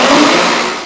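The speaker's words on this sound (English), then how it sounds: "now we're just going to blend it up again" A blender whirs loudly and steadily up close for a brief moment as it mixes keto pancake batter.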